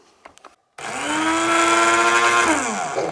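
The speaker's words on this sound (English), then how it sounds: "you want to grind this up because it's in granules and you want powder" Black powder granules ground into powder in a motorized grinder: after a few faint clicks and a short pause, a loud, steady whirring motor starts, holds for about two seconds, then winds down.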